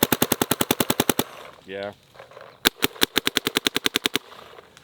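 A Shocker Era mid-end electronic paintball marker fires rapid, evenly spaced sharp pops in two fast strings, loud and close, with a short whirring mechanical sound and a brief spoken word in the gap.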